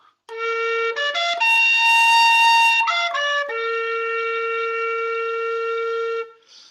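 With every hole covered, a B flat tin whistle plays a long, steady B flat. Short stepped notes at the start lead into a high held passage, then the low tone settles and sustains alone.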